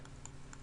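Clicks of someone typing on a computer keyboard, a handful of light, uneven keystrokes close by over a steady low background hum.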